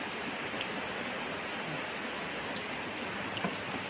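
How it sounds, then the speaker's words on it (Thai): Steady, dense rain hisses evenly throughout at a storm's onset, a broad wash with no breaks and a few faint ticks on top; no voices. "ฝนก็ตกพี่น้องเลย"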